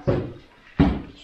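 Two sharp wooden thumps about three-quarters of a second apart, an old door in a small room being opened or bumped, close and fairly loud with short decays.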